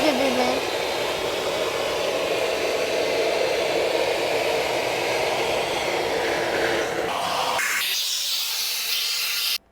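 Eureka Forbes Super Vac bagless vacuum cleaner running: a loud, steady airy hiss and whine that holds for most of the stretch, then cuts off abruptly near the end.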